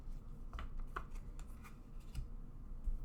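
Tarot cards being shuffled by hand, a series of soft riffling and slapping bursts close by with no talking.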